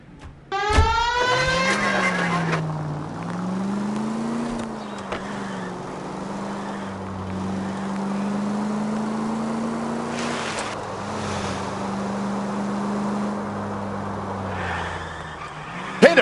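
A car in the video game L.A. Noire skids with a sharp tire squeal, then drives on with a steady droning engine that rises and falls, loud and close, with a brief crash-like burst at the end.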